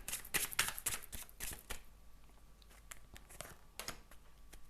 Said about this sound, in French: Allez, un tirage à 5 cartes.